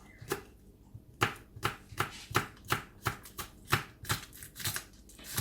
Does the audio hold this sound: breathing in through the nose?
no